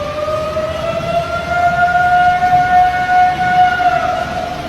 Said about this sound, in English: While it may bear a resemblance to an ambulance passing by, there is a belief that this sound aligns with what you'd expect a Sasquatch to make.